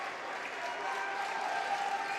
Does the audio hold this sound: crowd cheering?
yes